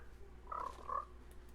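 Frogs croak in a block-building video game, two low croaks close together over a steady ambient hum.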